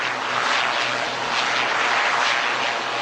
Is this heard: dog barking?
no